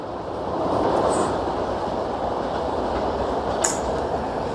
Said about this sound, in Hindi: तो ये जो ट्रेन गई अभी, ये है गीतांजलि एक्सप्रेस थी।